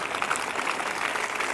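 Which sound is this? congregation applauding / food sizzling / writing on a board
congregation applauding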